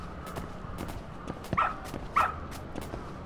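A dog in the video game Lost Judgment gives a couple of short, sharp barks amid light footsteps and game ambience, fairly close and clear.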